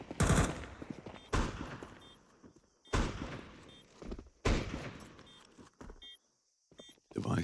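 Counter-Strike 2 gunfire during a professional match on the Ancient map: several sharp bursts of rifle shots in separate volleys with quiet gaps between, close and loud, with a commentator talking over parts of it.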